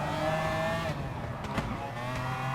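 A McLaren F1 GTR race car at speed in Gran Turismo Sport on the Sardegna Road Course, its engine droning loudly and steadily with quick shifts in pitch as it drops two gears under braking.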